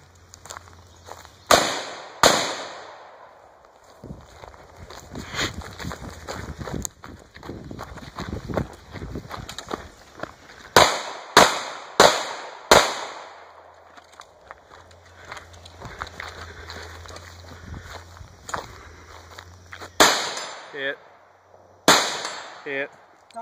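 SPR rifle topped with a Nikon Buckmaster 4-12 scope, plus a pistol, fired at outdoor shooting practice: sharp loud shots in clusters of rapid pairs and triples, separated by quieter stretches of movement and footsteps.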